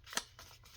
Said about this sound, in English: I cut the divot out.